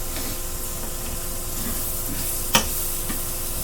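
Peppers sizzle in butter in a pan, a steady close frying hiss running throughout, with faint stirring scrapes and one sharp clack partway through.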